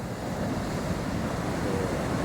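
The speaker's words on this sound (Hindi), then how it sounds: "कभी आइए यहाँ पे और इन धाराओं की आवाज़ को महसूस करिए" Ocean waves and currents roll onto the beach at Puri in a dense, continuous roar, with gusty wind buffeting over the surf and no voices.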